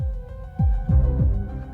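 A dramatic heartbeat sound effect in a horror episode, deep thumping pulses in a steady lub-dub rhythm under a low droning hum, loud and close with no talk.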